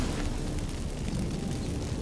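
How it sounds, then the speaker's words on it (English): Magic fireworks going off from activated incense in the video game The Witcher 3, a steady, dense rumbling roar with crackling bursts that holds loud and unbroken for about two seconds. "Get ready for some magic fireworks. Once I activate the incense,"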